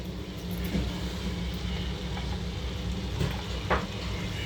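Tomato and vegetables frying in a little hot oil in a kadai, a steady close sizzle running throughout with faint crackles and a brief stir near the end, no voices.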